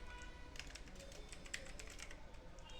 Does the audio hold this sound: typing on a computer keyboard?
yes